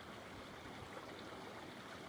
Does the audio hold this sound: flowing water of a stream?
yes